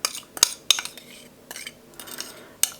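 A spoon clinks and scrapes against a small glass bowl as a mixture is spooned in, giving a few sharp, close taps between quieter scraping, with no talking.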